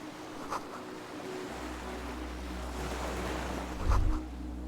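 Ocean waves roll in the video game Disco Elysium, a soft, steady wash of surf with a low wind rumble underneath and a slightly louder swell near the end, with no voices.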